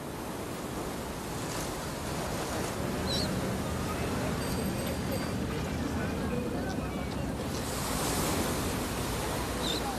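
Sea waves wash along the 7-kilometre Havana Malecón seafront promenade, making a continuous roaring surf with gusty wind, partly under a speaking voice.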